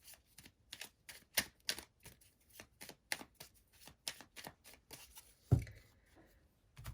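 Oracle cards shuffled for a moon magic card reading, a rapid run of crisp papery riffles and taps in an uneven rhythm, close and fairly quiet, with one sharper slap near the end and no talking.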